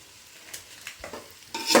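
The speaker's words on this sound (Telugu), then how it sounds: "బిర్యానీ మసాలా వేసుకున్న తర్వాత మంచిగా కలుపుకోవాలి" Biryani masala being stirred into a sizzling spice paste in a pan for Hyderabad veg dum biryani, soft scraping strokes and light sizzle building to a brighter scrape at the end, heard close and without talk.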